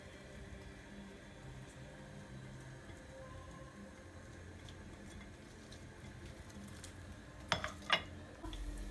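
Garlic sizzling in three tablespoons of olive oil in a pan, a faint steady crackling hiss with a couple of sharp clinks of utensils near the end.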